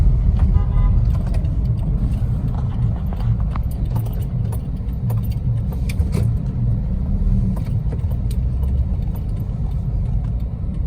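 Road traffic surrounds a moving car driving in Jamaica. A loud, constant rumble of engine and road noise runs throughout, with scattered light rattles and clicks.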